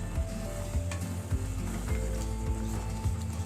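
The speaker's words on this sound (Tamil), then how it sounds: "டைரெக்ட்லி வடை சட்டியில் தக்காளியும் புளியும் போட்டு நல்லா கொதிக்க வச்சுருங்க." Tomato and tamarind bubbling directly in a wok-style vada pan for a Tamil sambar, a steady close sizzle and simmer with faint periodic knocks, no voices over it.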